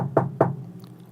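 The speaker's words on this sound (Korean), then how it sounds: "갑자기 방문을 두드리는" Two sharp, close knocks land on a room door about a quarter second apart, followed by quiet room tone.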